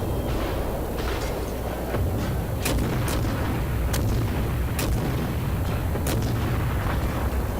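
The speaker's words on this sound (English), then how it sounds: "Boom. Enemy cruiser sunk." A cruiser blows up and sinks in the naval battle game World of Warships, heard as a rumbling, roaring explosion bed cut by several sharp booming hits spaced a second or so apart, with no speech.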